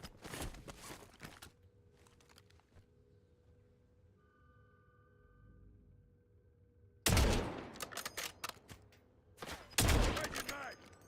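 Gunfire in the video game Warzone, set in Verdansk: a burst of rapid shots at the start, a quieter stretch with a faint hum, then two loud clustered volleys of automatic fire near the end.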